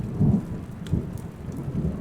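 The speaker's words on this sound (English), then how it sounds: "Bit of a storm going on outside." A thunderstorm rumbles outside in Kingdom Come Deliverance 2, with low rolling thunder over steady rain pattering on surfaces, fairly loud and without voices.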